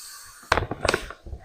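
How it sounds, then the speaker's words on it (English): Sand is poured into an aquarium tank, a short, close burst of gritty rattling and crackling impacts lasting about a second, with no talking. "I'm going to add some sand first before I start playing with any of the hardscape pieces"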